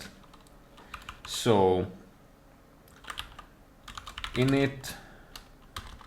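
A computer keyboard is typed on at a desk by a Fedora software developer. The keys give scattered light clicks at close range, soft and intermittent, with someone talking over them at times.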